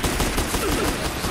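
Grenade spreader weapon firing in the Doom video game, a dense run of rapid blasts and explosive bursts packed together over a little more than a second, loud and continuous with no clear gaps.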